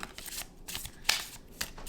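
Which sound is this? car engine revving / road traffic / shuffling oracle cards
shuffling oracle cards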